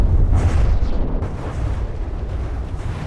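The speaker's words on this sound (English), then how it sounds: "It's got a little missile launcher." A small missile launcher fires in the naval combat game From the Depths. A dense, roaring burst of explosive rumble is loud and continuous, with no voices.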